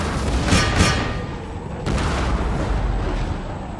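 Cannon and musket volleys in a Total War: Empire battle, a tournament match with French forces attacking a hill: two rumbling booms early on, then a sharp burst about halfway through, over a continuous low roar of gunfire.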